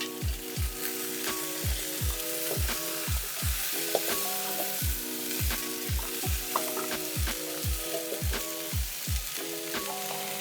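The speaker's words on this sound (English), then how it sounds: "Sauté for another minute." Sautéing vegetables with freshly added minced garlic hiss steadily in a pan as a spoon scrapes and stirs in regular strokes, near and continuous, without any talking.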